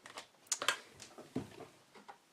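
Paper trimmer blade slicing across card stock in a quick crafting session, a few short crisp scraping and clicking strokes heard up close with no talking.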